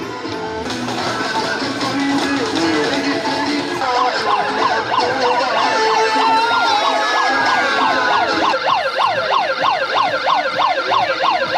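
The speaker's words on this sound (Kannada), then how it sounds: "ನದಿ ಸಮುದ್ರದಲ್ಲಿ ಕೂಡ ಸೈರನ್ ಮೂಲಕ್ಕಿದೆ." A boat ambulance siren in Ullal on the river and sea wails loudly and continuously, its rising and falling tone speeding into a fast warble partway through.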